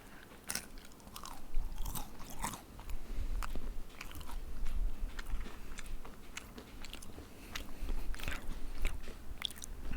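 Crisp, repeated crunching bites into a kueh, a Singapore snack, with sharp cracks scattered across the stretch and chewing in between, close and fairly clear with no talk.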